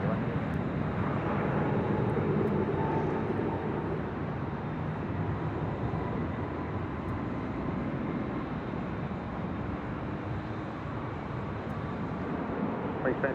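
A jet airliner roars steadily at LAX, heard from high atop a hotel, a sustained broad engine rumble lasting throughout, with radio tower chatter faint in the background.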